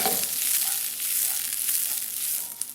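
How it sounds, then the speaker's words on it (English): Diced red onion sautés in a sauté pan, a continuous bright sizzle with soft stirring scrapes that rise and fall, and a small clack near the end. "I'm going to toss that into our saute pan. And at this point, we want to saute these until they're fairly soft"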